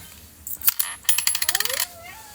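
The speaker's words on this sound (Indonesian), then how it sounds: "liatin uang koin dibuang-buang ke sini kamu mah" Coins thrown down onto a hard surface, a quick burst of bright metallic clinks followed by a rapid run of ringing bounces and rattles that settle out.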